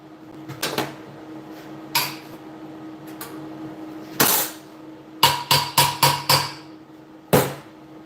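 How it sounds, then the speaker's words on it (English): A metal clamp moved around on a workbench gives sharp clanks and knocks, scattered at first, then a quick run of five close metallic hits and one last clank. "Just going to move the clamp now actually."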